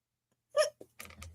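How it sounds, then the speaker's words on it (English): A single sharp hiccup from a person, fairly close and clear, followed by a couple of quieter short sounds against near silence. "Is that a hiccup?"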